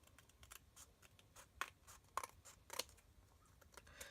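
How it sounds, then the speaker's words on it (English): Scissors snip through excess cardstock trimmed from an embossed handmade card, giving three quiet, separate crisp cuts spaced about half a second apart over a soft room background. "We're going to just take our snips out and cut off this excess here that is showing."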